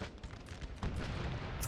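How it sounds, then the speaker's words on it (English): Artillery and musket fire in a Napoleonic Total War 3 multiplayer battle, a rolling mix of booms and scattered shots at a moderate distance, growing heavier halfway through, with no talking. "The Portuguese need to do something about this artillery"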